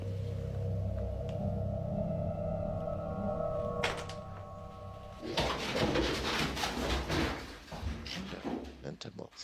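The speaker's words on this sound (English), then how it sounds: "Is that a vulture? Yes." A vulture calling in a haunted-house clip gives low cooing and hoarse, drawn-out cries. It is followed by a burst of rustling and knocking, all mixed with indistinct voices.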